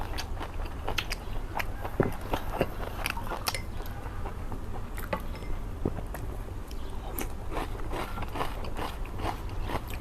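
Close, wet biting and chewing on stewed pork ribs with potatoes, a steady run of sharp crunchy bites and gnawing smacks repeating through the whole stretch without talk.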